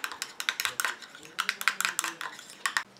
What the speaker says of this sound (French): Et je mélange